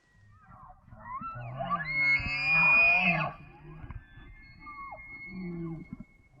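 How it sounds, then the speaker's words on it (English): A bull elk trumpets in the distance near a morning camp, a rising whistling bugle that swells and holds at its peak, then fades into lower grunting calls over faint ambient noise. "I hear a bull elk, and he's trumpeting in the background"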